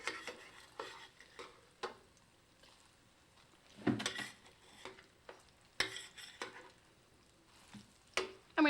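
Potato latkes frying in a pan, a soft low sizzle under irregular scraping and clinks of a utensil against the pan, with a few sharper knocks and no talking.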